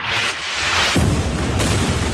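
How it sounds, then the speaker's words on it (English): A booming explosion from an Israeli strike, a heavy low rumble that swells and lingers for about two seconds, loud and alone with no voices. "I was woken up by the sound of this explosion at around 5:30 in the morning"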